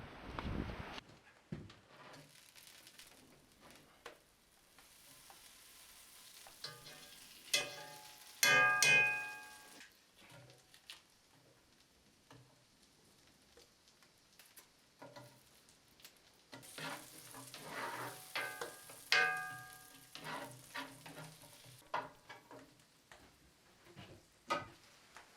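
Butter and onions frying in a pan in a cabin kitchen, a steady close sizzle with clinks and stirring taps, swelling louder in bursts around the middle and again later.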